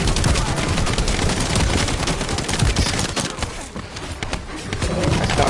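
Rapid, continuous gunfire from shooting enemies in the sci-fi shooter game The First Descendant, dense overlapping shots that stay loud throughout with only a brief lull.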